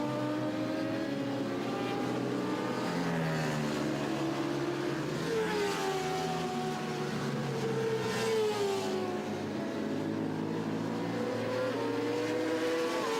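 A Ducati DRE 998 racing motorcycle screams around the Vallelunga circuit during an endurance race, its engine note rising and falling through gear changes, loud and continuous over the whole stretch.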